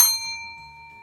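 A single bright notification bell ding rings out clearly and fades over about a second, alone with no voices.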